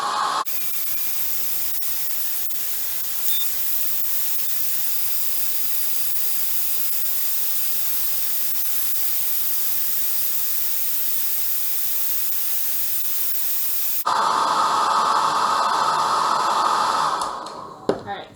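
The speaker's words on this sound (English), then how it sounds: "we're going to take the red balloon and my blow dryer" A blow dryer blows on a red balloon, a steady loud broadband rush lasting throughout, its tone shifting partway through, then cutting off near the end.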